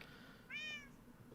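A cat in a survival video game gives a single short, clear meow, faint against a quiet background.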